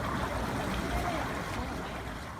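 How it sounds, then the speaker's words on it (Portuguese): Thick mud bubbling and churning in a natural mud pool, a steady dense gurgling wash that stays loud and continuous throughout without any pause. "Essa mistura furiosa de lodo espesso e borbulhante foi capturada por um cientista canadense em 2019"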